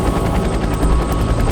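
A helicopter hovering or flying near a cliff inside a tree-lined gorge, a steady loud rotor thrum with pulsing blade chop filling the whole stretch, close and continuous.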